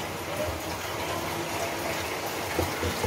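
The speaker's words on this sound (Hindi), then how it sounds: "तो फिर मैं इसमें पानी भर लूँगी।" Water runs steadily into a container being filled for washing mangoes, a continuous splashing gush from a tap that holds evenly throughout.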